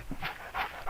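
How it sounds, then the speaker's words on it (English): Voodoo guard dogs in the N64 game Shadow Man give a few quick, breathy pants, close and fairly soft, with no voices. "These are her guard dogs. Well, voodoo guard dogs."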